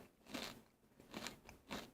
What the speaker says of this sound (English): Sorry, I'm eating pita chips.